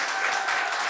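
An audience clapping for Valerie Joy, a brief, dense burst of applause from a crowd, steady and fairly loud.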